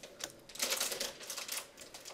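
Quick typing on a computer keyboard, a rapid run of close key clicks in uneven bursts with short pauses between them, heard alone without speech.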